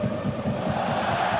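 Football crowd at Brøndby Stadium during a Brøndby vs Liverpool match, a steady broad roar of many voices cheering throughout, dense and continuous without pause.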